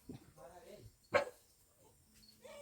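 A single sharp dog bark bursts out between stretches of conversation, loud and close, with people talking before and after it.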